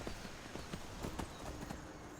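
Horse hooves clip-clop at a steady walking pace in the video game Skyrim, a series of evenly spaced soft thuds over a constant hiss of outdoor ambience.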